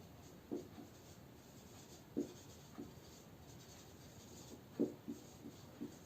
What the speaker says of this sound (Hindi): अब मैं इसके बारे में इसकी जो मैथमेटिकल फॉर्म है वो लिख देता हूं